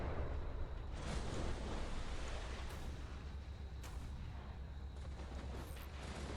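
Warship guns booming in the naval video game ShipCrafter, with sustained rumbling artillery fire and a few sharper distant reports over a continuous low roar of battle, no talk.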